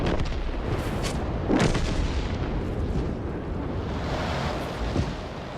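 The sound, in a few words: tank gun firing in World of Tanks video game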